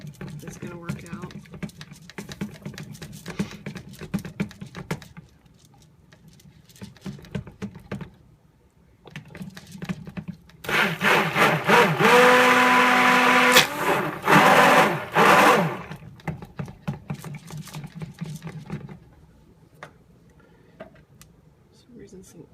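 A stick blender whirs for about five seconds in cold process soap batter, a loud steady buzz that rises out of quieter clatter and handling noise. Someone talks before and after it.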